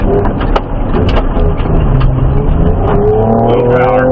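A Ford Ranger Raptor pushes hard off-road, its engine revving and rising in pitch through a steady loud drone, with a few sharp clunks and bumps over rough ground and a brief voice in the background.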